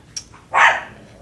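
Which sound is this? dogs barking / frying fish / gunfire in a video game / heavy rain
dogs barking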